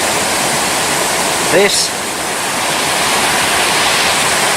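Loud, steady roar of rushing water at the Devil's Cauldron waterfall, filling the whole scene up close, with someone briefly speaking over it.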